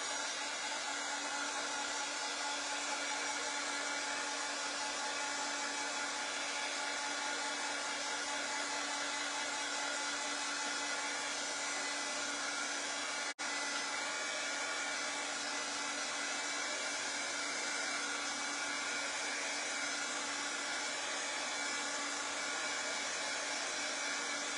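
A hair dryer blows steadily and loudly for the whole stretch, drying chalk paste on a tiered winter tray, with an even whooshing roar and no pauses.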